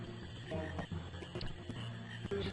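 Frogs croaking in Qu's Marsh in Final Fantasy IX, a busy, moderately quiet chorus of low repeated croaks and chirps over a steady swampy game ambience, no talking.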